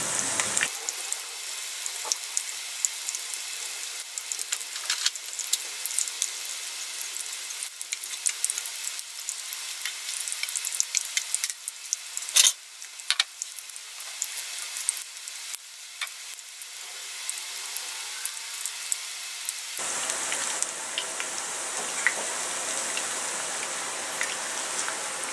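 Bacon and potato hash browns with garlic sizzle steadily in a pan over an off-grid cooking setup, a continuous close, crackling fry with a slight shift in texture near the end and no talking.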